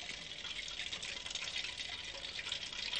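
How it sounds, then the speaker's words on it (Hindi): Gram flour batter with dry ginger powder, salt and water being whisked by hand, a steady wet, splashy churning that runs continuously and fairly close, with no voices over it. "तो इसको मैं फेंट के मिक्स कर लेता हूँ। इसको अच्छी तरह से मिक्स कर लीजिए"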